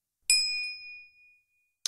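A single bright notification-bell ding strikes cleanly and rings out with a long shimmering decay, followed by silence and the sharp start of a second chime at the very end.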